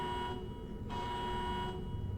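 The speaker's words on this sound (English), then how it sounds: "Alarm on." A video game alarm buzzer drones steadily throughout, with a higher tone that switches on and off in regular pulses over a constant low hum, with no talking.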